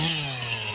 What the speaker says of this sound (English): I'm on the chainsaw here